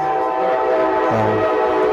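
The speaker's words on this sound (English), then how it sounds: "I think we gotta come up with a segment for every time the train come by." A train running on the tracks behind a house, a steady loud rumble with a tonal horn-like drone throughout, close by, with no voices.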